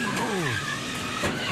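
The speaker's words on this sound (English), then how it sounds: "Just gets slammed. One of the cars loses control." A NASCAR race car at the Daytona 500 snarls with a falling engine note and tire scrub as it loses control, loud and close from an onboard view, with crowd and track noise beneath and no clear talk.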